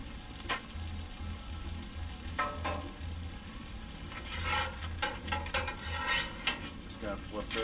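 Pork chops sear in a hot pan at a campground cookout, a steady crackling sizzle with occasional scrapes and clinks of a utensil stirring against the pan.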